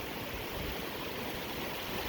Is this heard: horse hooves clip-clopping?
no